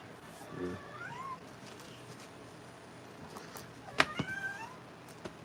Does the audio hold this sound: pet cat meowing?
yes